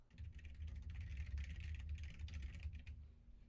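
A computer keyboard being typed on gives soft, rapid clicking keystrokes in short runs, faint and close over a steady low hum.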